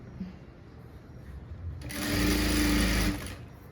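A sewing machine stitches a blouse, with a quiet stretch giving way to a loud, steady whirring run of about a second and a half that then slows and fades.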